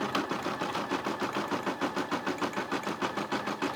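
A Brother SE600 embroidery machine stitches out a turkey border, its needle chattering in a fast, steady rhythm with a low mechanical hum underneath, close and continuous throughout.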